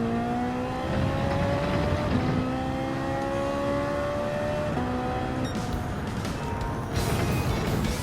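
A race car engine in Gran Turismo 7 at the Monza circuit screams steadily through several rising gear pulls with brief shift dips, loud and continuous, with a whir and faint tire noise near the end.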